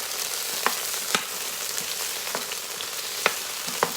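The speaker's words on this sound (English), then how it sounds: "We're gonna let these saute for just a second." Onions, garlic and cooked turkey sausage sauté in a pan with a soft, steady sizzle and a few sharp crackles and pops, close by with no voices.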